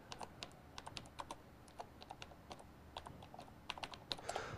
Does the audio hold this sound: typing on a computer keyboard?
yes